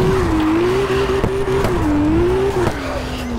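Car drifting in the CarX drift video game, a sustained engine roar with a wavering tire squeal running throughout, loud and close, with a few short clicks.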